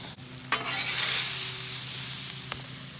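Butter sizzles on a Blackstone griddle beside NY strip steaks, a steady close frying hiss broken by a couple of sharp scraping clicks from a spatula, with no voices.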